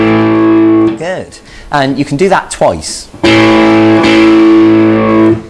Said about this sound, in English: if you take your first finger and put it on the 4th string of fret 2